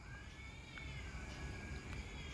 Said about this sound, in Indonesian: Ada suara kucing ini, kucing garong.